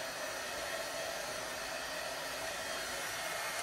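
A heat gun blows with a steady, loud, broadband hiss that holds even and unbroken from start to finish, with no talking.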